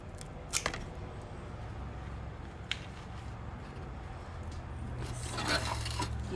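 Scissors snip through greenery stems for a Thanksgiving floral arrangement, giving a few faint, sharp clicks spaced apart against quiet room noise, with soft rustling toward the end.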